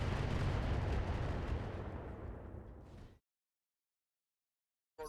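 A big explosion in the mech video game Roguetech booms out loud, then its rumble fades over about three seconds and cuts to silence before a brief burst of sound at the very end.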